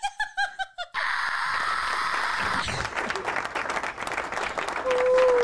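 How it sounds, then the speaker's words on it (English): Applause and scattered cheering from an audience rise after a brief opening burst of voices, continuing steadily at moderate loudness with laughter mixed in. "And the crowd goes wild."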